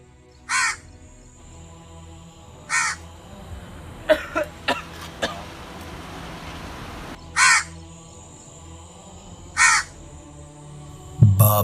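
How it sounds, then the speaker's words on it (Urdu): A crow perched in a nearby tree caws loudly in separate harsh calls, first two, then a quick burst of short caws, then two more, with quiet stretches between. "اچانک ایک کوا ساتھ درخت پر بیٹھ کر آوازیں دیتا ہے۔"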